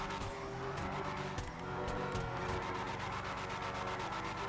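A Declasse Drift Yosemite pickup drifting in GTA 5 Online, with a continuous droning engine and repeated squealing, skidding tires, loud and close throughout.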